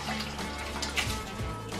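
Rinse water from washed rice pours into a sieve, a close, continuous splashing trickle with a few small bright splashes, steady for about two seconds.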